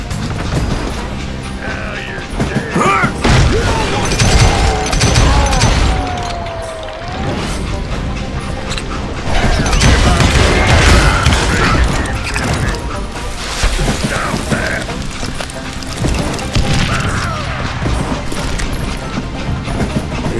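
Gunfire in the Western shooter Call of Juarez Gunslinger: dense, loud bursts of shots and crashing impacts roll continuously over busy game sound, with no talk.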